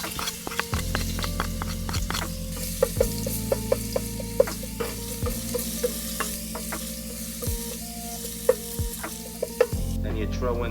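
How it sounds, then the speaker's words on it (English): Garlic sizzles steadily in hot oil in a pan, a continuous close frying hiss broken by a few clinks and scrapes of stirring, with no voices. "and you fry some garlic"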